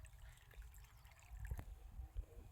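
Irrigation water runs through an earthen channel in a wheat field, a steady low rushing and gurgling flow with small splashes, close by and fairly quiet, with no one speaking.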